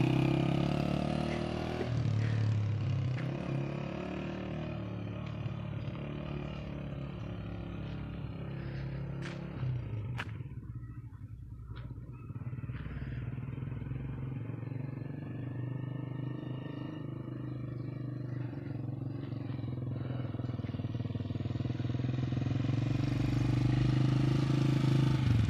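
A motorcycle ridden slowly during a riding lesson, engine idling and revving with gear changes and a brief dip near the middle, then swelling again, close and steady, with no talking.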